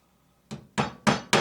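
A hammer drives 4D nails into thin wood for a honeybee hive roof, giving four sharp, evenly spaced strikes that ring out close and loud against a quiet background.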